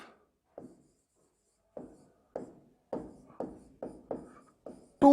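A teacher writing a note during a chemistry lesson, short scratchy strokes in irregular bursts, about ten marks with pauses between, close and clear in a quiet room.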